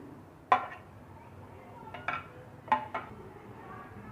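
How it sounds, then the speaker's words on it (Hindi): A spoon stirs chopped onion and tomato into a spicy boondi raita, giving a few soft, sparse clinks against the bowl in a quiet kitchen. "अब इसको हम अच्छे से मिक्स कर लेते हैं।"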